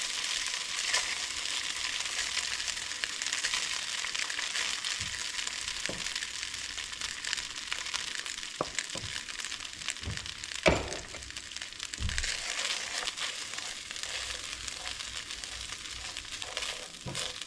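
Rice frying in hot olive oil in a pan, a steady close sizzle throughout with occasional pops and scraping stirs, no voices.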